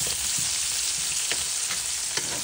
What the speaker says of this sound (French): Je mélange.